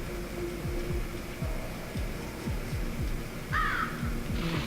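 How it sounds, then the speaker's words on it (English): Crows caw in the Legend of Dragoon marshlands over a rhythmic ambient game soundscape of low repeating thumps, with a couple of brief raspy caws near the end at moderate volume. "Okay, crows."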